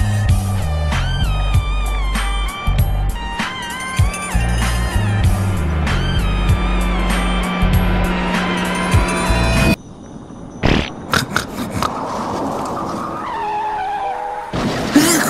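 A car in the Roblox game Twilight Daycare roars with a loud, steady engine drone and squealing tires, then cuts abruptly into a series of sharp crash impacts and clatter.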